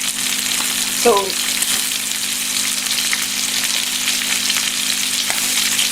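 Beef top sirloin steak sears in butter and oil with a continuous dense sizzle and fine crackling, close and steady throughout, briefly broken by a single short spoken word.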